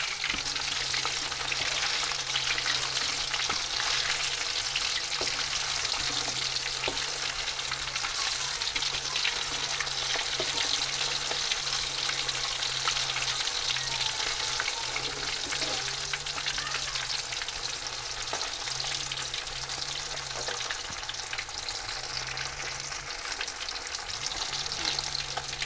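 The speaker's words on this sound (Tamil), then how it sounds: "நல்லா இப்போ மீன் நல்லா வறுத்துட்டோம்." Paarai fish coated in masala fries in oil in a home kitchen pan. A steady, close sizzle with fine crackling holds at an even level throughout, and no voices are heard.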